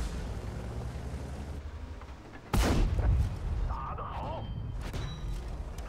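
Loud tank cannon shots slam into the player's vehicle in World of Tanks, a sharp booming impact followed by rumbling battle noise and a few fainter later hits.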